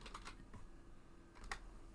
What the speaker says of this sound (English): Hang on, I'll type it in chat.